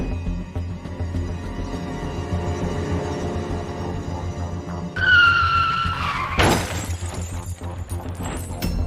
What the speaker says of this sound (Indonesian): Akhirnya saya pun kecelakaan dengan menabrak pohon.